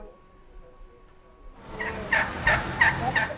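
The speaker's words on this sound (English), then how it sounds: "A wild turkey has one Wisconsin town running scared" A wild tom turkey gobbles several times in quick succession, fairly close and loud, in urban Shorewood, Wisconsin, after a quiet start with a faint steady tone.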